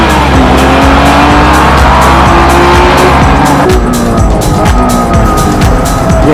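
A Honda NSX-R race car driven hard on a circuit's East course: a loud, continuous engine roar with shifting pitch and squealing tires, close and unbroken throughout.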